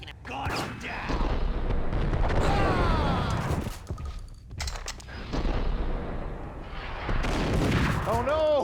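Rapid video game gunfire crackles and booms almost nonstop, dense and loud, with shouting voices and other game sounds layered over the shots.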